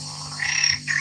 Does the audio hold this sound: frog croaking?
yes